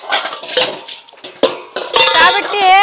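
Dishes and steel utensils clatter and clink as they are scrubbed and stacked in a home kitchen, irregular sharp knocks building into ringing metallic clangs near the end, close and loud.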